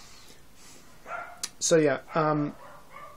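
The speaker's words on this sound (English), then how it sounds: "my dogs are going off" Pet dogs bark inside a house, with two loud, close, tonal barks and a yip following a thump, while someone talks quietly over them.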